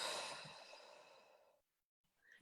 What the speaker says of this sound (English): in through the nose and out through the mouth